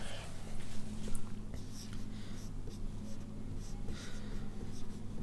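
Pen or marker writing numbers by hand on a surface for a maths lesson, a steady faint scratching with short strokes over a constant low hum.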